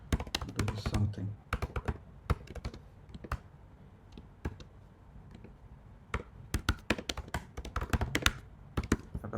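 Someone types code on a computer keyboard in quick bursts of crisp key taps, pausing briefly in the middle before another flurry, close and fairly quiet, with speech at moments.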